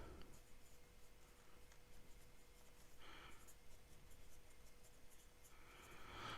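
A William Shakur Titan fountain pen with a medium titanium nib, size number 8, scratches faintly across paper in a quiet room, a soft continuous rasp with a few slightly brighter strokes.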